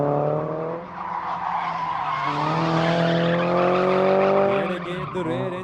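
A Mercedes C200 drift car skids through a run at a drift event, with long, loud tire squeal over a straining engine, rising and shifting in pitch throughout.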